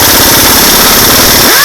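A pneumatic air impact gun works loose a wheel on a Mazda Miata (MX-5) spec race car, loud and close, its rapid hammering chatter running steadily before ending abruptly near the finish.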